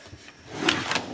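A drawer slides open or shut during makeup organizing, making a short rolling rumble that ends in a couple of light knocks, close and moderately loud.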